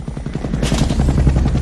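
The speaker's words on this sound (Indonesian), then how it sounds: "Dan helikopter pun tiba untuk menjemput Duncan dan Skip." Helicopter arriving in an action film, its rotor chopping in a fast, steady beat that swells louder partway through, close and loud with no voices.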